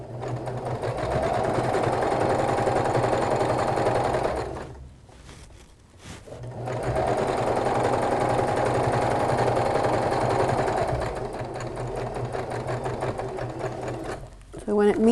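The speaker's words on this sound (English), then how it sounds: "I'm just going to do a little backward stitch" A sewing machine stitches fabric for a pillow, running in a loud continuous whir that pauses briefly midway with a couple of soft clicks, then resumes and runs steadily to the end.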